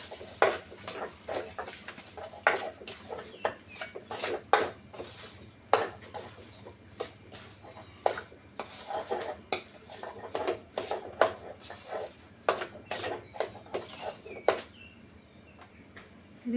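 A spoon stirs spiced aloo bonda potato filling in a bowl, with many quick, irregular metallic clinks and scrapes repeating close by for a long stretch.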